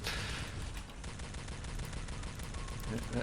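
A gun in a video game fires rapidly and repeatedly, a dense burst of rattling shots that continues without a break at close, loud level.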